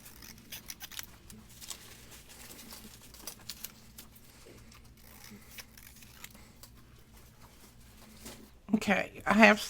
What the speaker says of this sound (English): I just freehand cut them